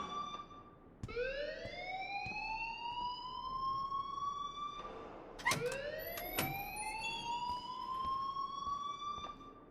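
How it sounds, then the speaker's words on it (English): A school alarm in the video game Life is Strange wails in repeated rising electronic sweeps, each climbing then holding steady, several cycles in a row at moderate loudness, with a few sharp clicks mixed in. "please turn off that alarm since that's your job"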